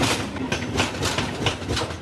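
A train switching tracks on a curve as it enters New Delhi railway station, with a steady loud rolling rumble and repeated rhythmic wheel clatter over the points.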